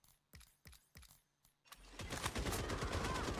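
A few sharp single gunshots from a gun in Rainbow Six Siege X ring out, then a dense burst of rapid automatic fire follows, loud and close.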